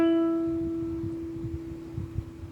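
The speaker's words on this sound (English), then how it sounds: "The next string is the E string." A single ukulele E string plucked once, ringing as a clear sustained tone that slowly decays over a couple of seconds, with faint background rustle and no speech.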